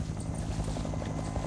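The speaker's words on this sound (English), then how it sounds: "Already, the choppers are delivering the second load of soldiers." Military helicopters ferrying troops into a Vietnam War battlefield, rotor blades thudding in a fast, steady beat close by, dense and continuous throughout with no speech.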